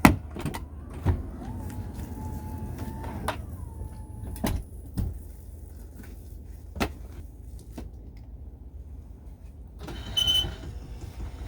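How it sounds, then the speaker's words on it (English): Wheelchair lift working on a Toyota Sienna van: sharp mechanical clunks and latches, a motor whine rising and settling, then a steady low hum with further knocks and a brief rattling burst near the end. "so that you can see how the lift works and how long it takes me to get in"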